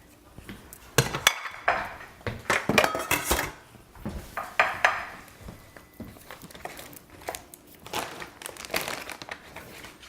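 A metal utensil scrapes and knocks against a pot while lasagna filling is scooped out, giving irregular clanks and scraping bursts that come close and loud, with short pauses between strokes.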